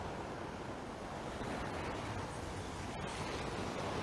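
Ocean waves break steadily at a beach in Accra at daybreak, a continuous, even wash of surf with wind rumbling across the microphone and no voices.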